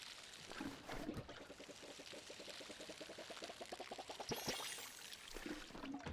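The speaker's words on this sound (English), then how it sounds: "I'm gonna water it." A watering can pours over crops in a farming video game, giving a steady, soft trickling splash with quick bubbly pulses that runs unbroken for several seconds.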